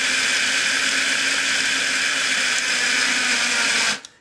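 A small electric spice grinder whirs continuously at high speed, loud and close, grinding a coarse, coffee-ground-like homemade chocolate mixture, then cuts off abruptly near the end.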